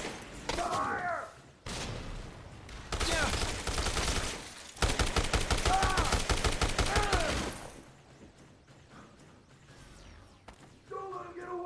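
Bursts of rapid gunfire from Dead Rising Deluxe Remaster, loud and close, come in several volleys separated by short pauses, with game voices shouting in between.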